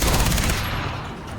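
Shotgun fire in the video game Far Cry 3: a loud burst of rapid, overlapping gunshots crowding the first half, then trailing off into a rougher, lower rumble.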